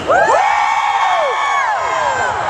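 A large festival crowd at a fan gathering screams and cheers loudly and continuously, with whoops and shrieks rising and falling above the roar for the whole stretch.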